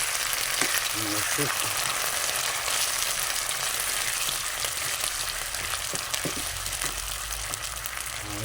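Sardines fry with bitter melon leaves in a pan, giving a loud, constant sizzle and crackle with occasional stirring knocks, while a person speaks briefly.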